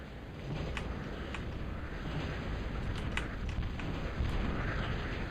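Bomber dropping a line of bombs in a strategy video game, with repeated muffled blasts and sharp pops scattered over a continuous low rumbling din, fairly quiet and with no voices.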